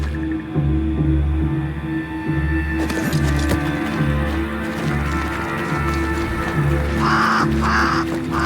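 Crow caws repeatedly in the video game Banishers: Ghosts of New Eden, harsh calls in a rhythmic series over a low droning ambient backdrop.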